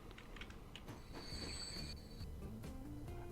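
A train pulling into a station in the transport-management game Transport Fever, with a steady rolling rumble, clattering wheels and a high, sustained metallic squeal midway through.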